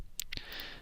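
Computer mouse clicks in CAD software, two quick, faint, crisp clicks close together, followed by a soft hiss of background noise.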